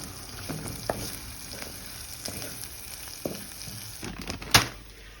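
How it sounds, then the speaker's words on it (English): Mince seasoned with ground mixed spice fries in a pan with a constant close sizzle, while a spoon scrapes and stirs at intervals, ending in a louder clatter. "Give it a little stirry, and then just fry that away for a minute or two more."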